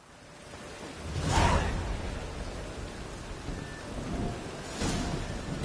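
A thunderstorm in The Witcher 3: Wild Hunt, with steady rain hiss under two rumbling thunder swells, the first stronger and the second fainter a few seconds later; no speech.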